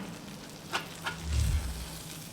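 Onion burgers fry on an SNS Kettle grill in a soft, steady sizzle, with two sharp scrapes of a spatula scooping patties and a low rumbling swell near the end.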